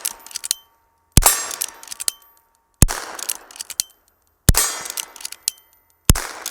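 Five sharp shots from a Henry .22 Mare's Leg, each a loud crack followed quickly by the ringing clang of a steel target, spaced about a second and a half apart with short metallic decay, no talking.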